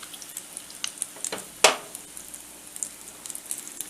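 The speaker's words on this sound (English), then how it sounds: "Pop it down into your hot oil." A thick batter of leftover mashed potatoes, egg and flour, salted and peppered, hisses as it drops into hot oil, with a sharp burst of sizzling at the drop and lighter crackles spattering around it.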